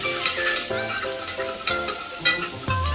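Ginger-chili paste sizzles and crackles as it is stirred in a hot pan, with background music playing over the cooking.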